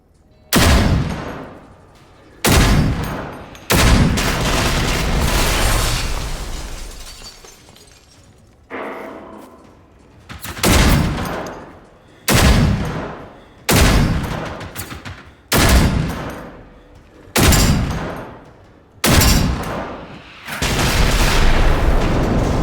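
Robots in Generation Zero, set in 1980s Sweden, fire repeated heavy bursts, about ten loud booming shots with decaying tails spaced a second or two apart, near and dominant with no talk.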